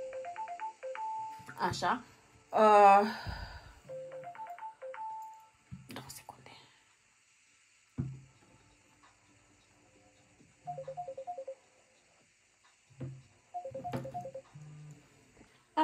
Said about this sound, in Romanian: nu știu ce a sunat, doamne iartă mă sună